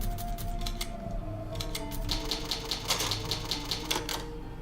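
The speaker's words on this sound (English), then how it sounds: "It's an old typewriter." An old typewriter in Resident Evil HD Remastered clacks in quick, sharp keystrokes, fitful at first and then in a denser run of strikes, over a steady low ambient hum.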